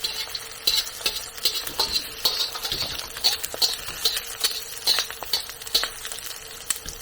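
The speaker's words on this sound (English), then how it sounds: "And we'll baste the eggs a little bit." Eggs basting in butter in a frying pan beside an ostrich steak, with steady close sizzling and a scraping, stirring patter of spoon against pan running throughout, no talking.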